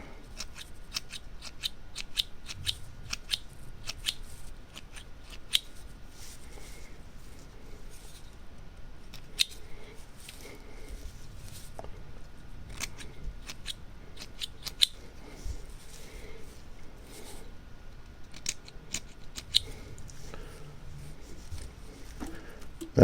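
Small scissors make crisp, repeated snips while trimming fly-tying material just taken out of the vise, sounding close and steady in irregular bursts, with someone talking quietly in between.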